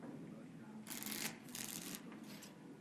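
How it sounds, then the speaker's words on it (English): Playing cards shuffled in Dragon Age: Origins, three quick riffling bursts of crisp papery rattle, close and clear over a low steady ambient hum, with no talking. "Before we start, the cards must be shuffled."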